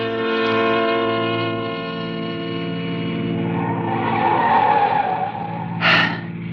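A car driving fast on a road, its engine droning as tires squeal in a long skid that swells and then ends with a sharp burst, staged as a 1947 radio drama sound effect.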